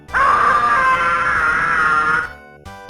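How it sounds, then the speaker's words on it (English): A shrill, sustained scream from Kevin in the Home Alone video game, heavily compressed and crackly, held for about two seconds before cutting off abruptly, followed by a brief low-fidelity blip. "Every time you lose, you're treated to a spectacle of a shirtless Macaulay Culkin screaming, in what can only be described as the most dog water quality imaginable."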